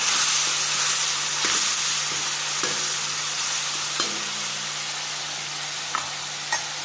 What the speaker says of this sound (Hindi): अभी प्याज फ्राई हो चुके हैं, मैं ये मसाला डाल रही हूँ इसमें और मैंने लहसुन डाल दिया।